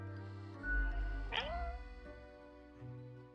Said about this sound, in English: The cat interjects.